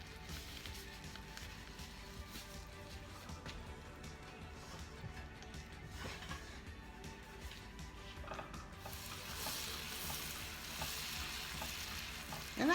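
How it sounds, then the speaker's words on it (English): Butter melting in a pan on low to medium heat for homemade apple pies, giving a soft, steady sizzle and crackle at low volume, with a louder clatter right at the end. "Get that butter melted."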